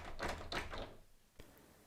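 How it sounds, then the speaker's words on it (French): A Nuki Smart Lock 3.0 motor locking a door, heard as a quiet indoor whirring sequence followed by a single soft thunk of the bolt. "Et ma porte est verrouillée."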